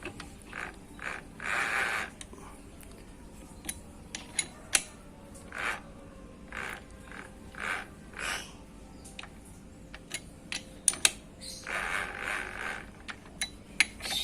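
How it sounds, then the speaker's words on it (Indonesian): Motorcycle engine's crankshaft turned slowly by hand during valve adjustment, giving intermittent faint mechanical clicks, creaks and scrapes in uneven bursts, close by in a quiet room. "Harus kita putar 1 kali lagi poros engkol ya."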